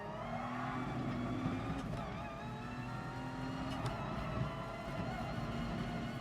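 A race car in GT Sport, compared against a Porsche and running without energy regeneration, drones with a steady engine note, shifting pitch through gear changes at constant moderate loudness.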